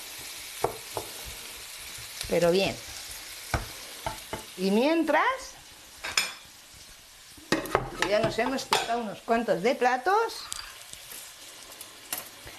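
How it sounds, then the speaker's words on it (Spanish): Onion and pepper sauté in a pan with a soft sizzle under intermittent Spanish talk, joined by occasional clinks of utensils and dishes. "Dejamos así y que se nos sofría bien"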